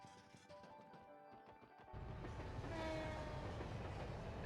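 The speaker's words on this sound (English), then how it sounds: "The train went by." A train rolls past in the video game Trails to Azure, starting with a faint rhythmic clatter before a louder, steady roar of cars and rails takes over and holds to the end, heard alone without talk.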